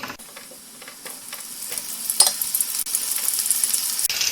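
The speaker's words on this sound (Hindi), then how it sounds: "तो चलिए अब इसे फ्राई कर लेते हैं।" Mushrooms coated in arrowroot and gram flour deep fry in hot oil over a medium flame, a loud, continuous close sizzle and bubbling that builds steadily, with occasional stirring crackles and no talking.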